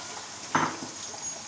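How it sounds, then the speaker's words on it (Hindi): Potatoes and carrots fry in hot oil with a steady, even sizzle and one brief metallic clink of a utensil against the pan partway through. "तेल हमारा गर्म हो चुका है। सबसे पहले हम इसमें आलू डालेंगे, फिर गाजर डालेंगे इसमें।"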